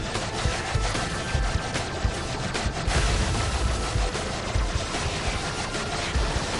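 Dense, continuous gunfire and blasts from a space battle in the video game Tower of Fantasy, steady and loud throughout with thumping low impacts and no talking.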